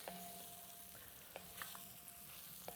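Chili ingredients sizzling and frying in a pan, a steady soft hiss with occasional light stirring knocks and clinks, fairly quiet and close, with no talking.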